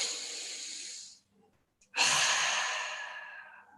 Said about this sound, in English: open the mouth as wide as you can, stick the tongue down to your chin and then force all the air out